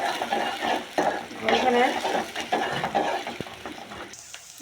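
Onion and garlic frying in oil for a taro leaf dish, sizzling under scraping and stirring with a utensil against the pot, close and busy, a brief spoken word in the middle.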